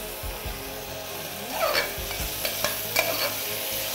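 Sugar caramelizing with onions in a pan, stirred with sharp scraping and clinking strokes over a steady close sizzle, no talk.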